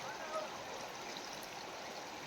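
The Mandakini river at Chitrakoot flows with a soft, steady rushing and gurgling wash, even and continuous, heard faintly without talk.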